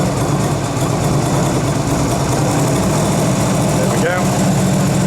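A Yamaha Virago 250 motorcycle idles steadily on choke while warming up, a low continuous engine rumble close by, with someone speaking briefly over it.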